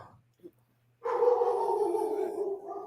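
A dog barking once loudly and close after a brief quiet, a sustained yelping bark with a whimpering edge, alone without talk.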